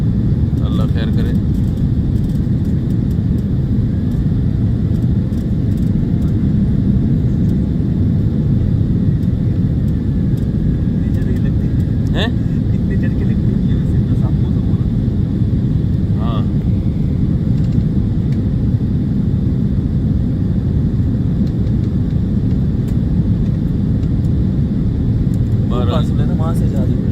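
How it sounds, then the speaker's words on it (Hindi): Steady loud jet airplane engine roar during takeoff and a turn, heard from inside the cabin as a continuous low rumble, with someone talking over it. "थोड़ा सा चलाते ही उड़ा दिया। बिस्मिल्लाहिर्रहमानिर्रहीम। बिल्कुल ही घुमा दिया जहाज़ को"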